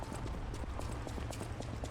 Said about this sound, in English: I hear big footsteps